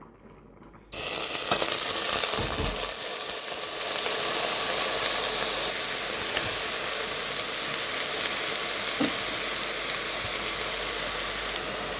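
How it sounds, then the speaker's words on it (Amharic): Chopped cabbage fries in olive oil in a pan with a sudden loud, steady sizzle and hiss that starts abruptly and carries on close up, with occasional faint clinks and no talking. "ጎመኑን ነው የከተፍኩትን ጎመን እጠብሰዋለሁ ማለት ነው።"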